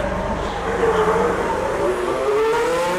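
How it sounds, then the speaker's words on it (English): Formula 1 race cars running on track beside the pit lane at a season-final race, a loud, continuous high-pitched engine whine that rises and falls in pitch as the cars accelerate past. "So right now the race is currently going on behind me. I'm in the pit lane as they come out to join the track again."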